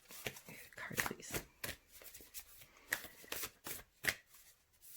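A deck of cards being shuffled up close, with repeated riffling bursts in an uneven rhythm and faint quiet pauses between them.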